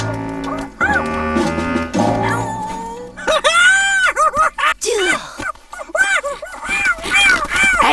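A cartoon caveman tribe chief practices yelling, loud strained shouts and wavering cries that rise and fall in bursts, mixed with other excited cartoon voices.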